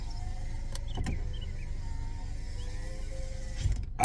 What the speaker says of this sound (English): Watch I roll this window down. Look at that window go down.